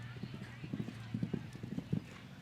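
A mare's hooves thud in an uneven clip-clop rhythm across the arena during a show jumping round, muffled and fairly distant, with a commentator talking over them.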